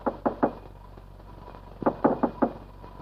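Knocks on a door in a Hindi film scene: a quick group of three sharp raps, a pause, then a second group of four, close and fairly loud.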